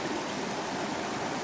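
Steady outdoor river flow at a campsite, a continuous broadband rush of water, moderately close and even throughout with no talk.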